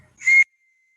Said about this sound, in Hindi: सीटी बजती है।